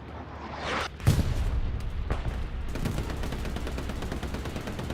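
Explosions from a bombing run on a bridge in a World War II multiplayer shooter match, with a heavy blast followed by sustained rumbling and crackling gunfire, loud and dense with no speech.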